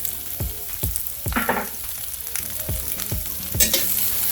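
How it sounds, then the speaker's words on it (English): Sliced red and green peppers, one whole pepper each, sizzle steadily in a hot pan, broken by repeated sharp stirring clacks and scrapes at a regular pace, close and fairly loud with no voices. "We're going to get those sauteed for a while until they get softened."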